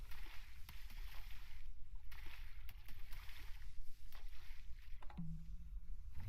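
Light sloshing and splashing of water as a character walks across the surface in Final Fantasy XIV, a steady watery wash running throughout with a low rumble beneath.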